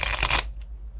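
A deck of cards gets a quick riffle shuffle: a dense, bright flurry of card flutter for under half a second, close and crisp, then a faint tap and quiet room.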